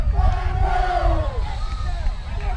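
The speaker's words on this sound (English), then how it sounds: "it's a predominant Bartow crowd tonight. Very vocal." A vocal, predominantly Bartow crowd cheers and yells at a high school softball state semifinal, a loud, dense roar of many voices with rising shouts throughout.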